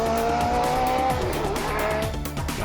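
A 1980s Skull Bandit Indy car screams down the front straight, its loud high-revving engine with rapid gear-change steps and a sharp, continuous whine close by.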